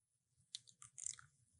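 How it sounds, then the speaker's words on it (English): Crunchy food chewed close to the mic, a few loud crisp bites and crunches over about a second, quiet and faint before and after. "I could hear it crunch on each tooth"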